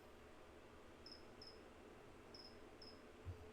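Faint, high chirps of a cricket in a cage come in two pairs, with a soft low bump near the end in an otherwise quiet room.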